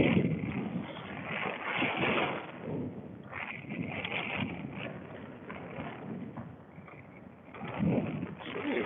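Strong wind buffeting the microphone on a late-summer fishing outing, with a steady rushing roar and gusty low rumbles throughout, swelling louder near the end; no clear talk.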